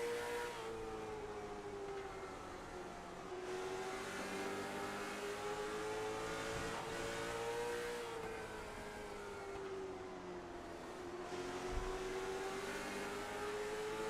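Late model stock car engine heard on board in iRacing at Southern National, a steady loud drone whose pitch rises and falls in smooth waves as the car laps, alone with no voices.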